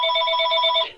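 A telephone bell rings in another room, one steady bright metallic trill lasting about a second and then cutting off, loud and with no talk over it.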